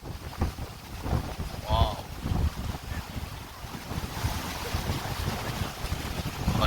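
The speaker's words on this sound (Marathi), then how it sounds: "किती जोरात हवा सुटते" Strong wind gusting across the microphone in hilly village countryside, a loud, rough buffeting roar that rises and falls, with a brief exclamation from a voice.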